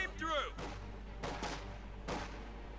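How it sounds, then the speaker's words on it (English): Gunfire from the real-time strategy game Company of Heroes 2 in a 1v1 match, a few scattered distant shots and bursts over low battlefield rumble, with a caster talking. "So a bit of shooting about there."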